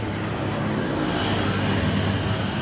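Steady rumble of cars and other vehicles moving along a busy, well-lit road late at night, a continuous close traffic wash with no talking.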